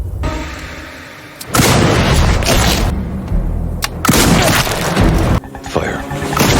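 Sniper gunfire in the action film Sniper: The Last Stand: heavy, booming shots with crashing impacts in several loud bursts over a rumbling background.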